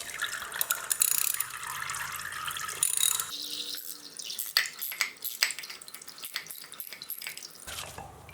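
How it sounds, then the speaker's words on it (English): Close, sharp metallic ratcheting of a 12mm socket wrench loosening the oil filter housing on a Honda CB750K motorcycle, heard as bursts of rapid clicks with scrapes of tools in between after an opening stretch of hissy noise. "12mm socket is what we're gonna use to remove the oil filter housing"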